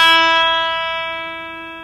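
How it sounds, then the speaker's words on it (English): A single sustained E note rings on an Ibanez PGM 700 electric guitar with a bright distorted tone. It starts with a sharp attack and then slowly decays, heard alone and close. "which is of course an E note."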